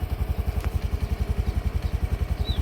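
A tractor engine running with a steady, rapid low thumping pulse, moderately close and continuous, with no talking.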